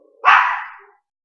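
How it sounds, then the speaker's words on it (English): A small dog lets out one sharp, loud bark up close, alone, with a brief tapering tail. "See, my dogs even know how bad it's been. My little dog is pissed."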